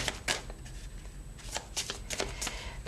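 Tarot cards being gathered up and handled during a three-card reading, with a run of close, crisp shuffling and riffling snaps in irregular bursts, alone and fairly quiet.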